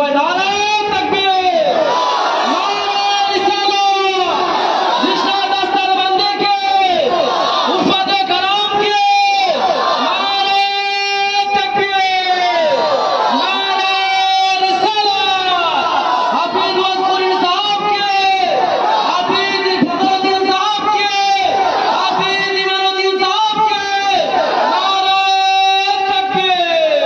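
A large crowd loudly and repeatedly shouts the takbir chant Nara-e-Takbir in unison at a religious gathering honoring a Quran memorizer, the call and chorus continuing in steady waves.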